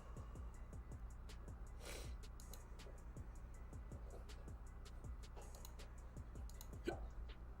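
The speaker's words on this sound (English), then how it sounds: "I need these stupid hiccups to go away." Hiccups recur at a steady pace, about a dozen short, faint jolts over a low, constant background hum.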